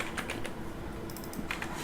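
Typing on a computer keyboard, with soft, quick clusters of key clicks at the start and near the end under a steady low background hum.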